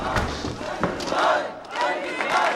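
A crowd in the film The Illusionist shouts and roars in surging waves, loud and dense, with overlapping voices rising and falling over a couple of seconds.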